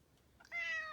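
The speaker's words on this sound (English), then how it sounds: "She is my three-legged kitty." Thumper, a three-legged pet cat, gives a single clear, drawn-out meow close by after a faint lead-in squeak, otherwise quiet surroundings with no talking.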